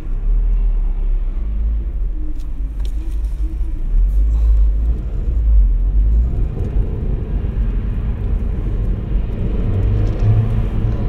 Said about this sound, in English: I'm kind of stuck in traffic here